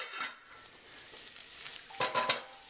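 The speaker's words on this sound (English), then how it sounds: "Let that saute with the onions." Rice and onions sizzle in a little oil in a pan, a steady close fry broken by scraping stirs that swell near the end.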